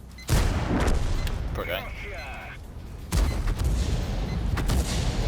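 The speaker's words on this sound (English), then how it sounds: "there's artillery shells everywhere" Artillery shells bursting around a battlefield in World of Tanks, with two heavy impacts, one early and one midway, rumbling over continuous battle noise while someone speaks briefly.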